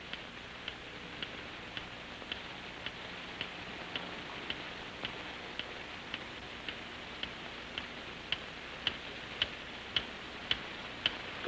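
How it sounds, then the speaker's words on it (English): A bomb ticking under rubble, a regular sharp tick roughly every second and a half over a hissing background, the clicks growing slightly crisper and louder toward the end, with no voices. "It started ticking."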